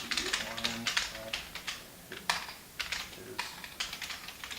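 Keystrokes clatter on a Kinesis Maxim keyboard in quick irregular bursts with short pauses, close and fairly loud, with a voice talking faintly underneath.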